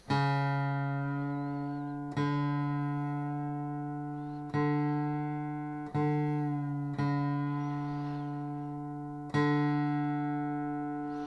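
Guitar D string tuned with harmonics, using the 5th fret method: six separate ringing bell-like harmonic tones, each struck cleanly and sustaining with a steady decay, close and clear with no talking.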